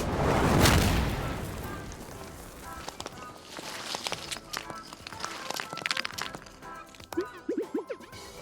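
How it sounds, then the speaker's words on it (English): A giant carrot rocket crashes down into a restaurant in the video game Epic Chef, with a loud booming impact that rumbles and fades into scattered clattering game effects and small noises. "that a giant carrot rocket? And it just landed in my restaurant?"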